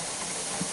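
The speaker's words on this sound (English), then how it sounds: "the steam is coming out of the central hole here" Steam hissing steadily from the central vent of a pressure canner set to 15 pounds while canning split pea soup, a continuous broad, even hiss with a faint low bump partway through.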